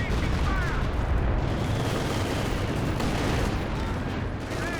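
Bofors gun firing amid a Company of Heroes 2 battle, a dense continuous roar of gunfire and explosions filling the mix, loud and unbroken with no clearly separated shots.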